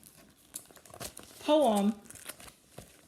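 An old, typed paper copy of a poem from 1985 crinkles and rustles as it is handled, with soft scattered crackles under a person talking.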